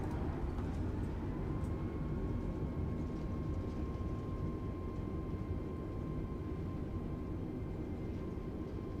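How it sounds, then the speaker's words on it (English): An Airbus A320neo on touchdown in Microsoft Flight Simulator, engines roaring steadily in reverse thrust, a loud, unbroken broadband rumble with a faint whining tone running underneath throughout. "And touchdown. Reverse thrust sets."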